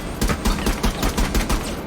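Rapid automatic gunfire from a cloaked operator in Rainbow Six Siege, a steady rhythm of sharp loud shots in quick succession lasting about two seconds.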